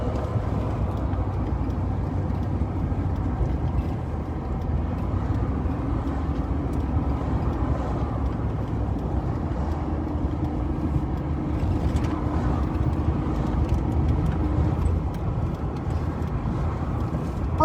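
A car cruises along Muldoon Road in a rally convoy, and a steady, broadband road and engine rumble fills the cabin throughout, with no talking.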